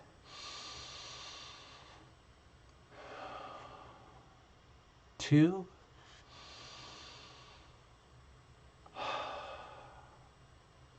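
Slow, loose breaths drawn in and let out in a paced breathing exercise, several long airy exhales spaced a few seconds apart, close and soft, with one brief louder vocal sound partway through as a number is spoken.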